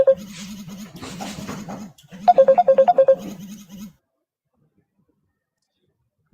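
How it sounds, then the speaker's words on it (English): A mobile phone ringtone plays a bright, bouncy electronic melody with repeated notes over a low pulsing bass during a live political broadcast, then cuts off abruptly into silence. "Omar, mute Omar phone"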